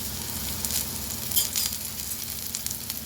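Crushed garlic sizzles in hot oil in a pan, a steady close crackle with small pops and a faint scrape, no voice over it.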